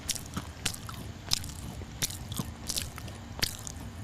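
Repeated close, crisp bites and chews into a crunchy karipap curry puff crackle in quick irregular bursts from start to finish with no talking.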